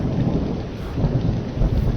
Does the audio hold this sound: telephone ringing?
no